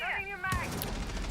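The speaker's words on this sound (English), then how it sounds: "Rexen with the shots rang out." During a Rainbow Six Siege esports match at the Six Invitational 2023, one sharp gunshot cracks out mid-clip beneath an excited commentator's voice.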